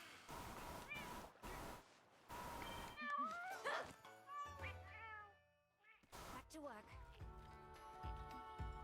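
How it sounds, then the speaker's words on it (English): Cartoonish cat-like meows and chirpy sung voices from cooking cats in the Monster Hunter video game, rising and falling in bursts over clattering game music and effects, loud and busy throughout. "those cats like to sing and dance while they cook my food"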